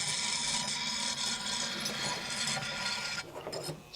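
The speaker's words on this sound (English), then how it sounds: "And all I'm going to do is sand the edges" A small handheld sander grinds the sharp edges of mosaic stepping stones, a steady close rasping scrape that shifts pitch near the end.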